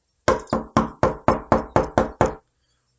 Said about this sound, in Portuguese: O lobo então foi bater na porta da casa do primeiro porquinho.